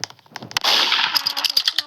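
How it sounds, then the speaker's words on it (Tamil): A gunshot in the Roblox game Murder Mystery 2: a sharp crack with a bright, noisy burst and ringing tail, followed by clanking game sounds, played back loud. "சுடுறா, கீழே சுடுறா."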